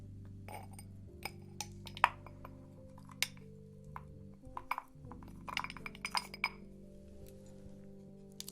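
A glass is readied for a liquor tasting, with close, crisp clinks and light taps scattered irregularly over several seconds against a faint background hum, no talk.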